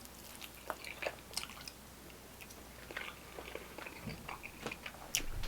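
Someone close up crunching and chewing Cheetos Cosmic Wings snacks, with soft irregular bites and mouth sounds over several seconds.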